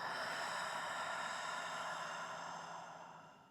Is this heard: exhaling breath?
yes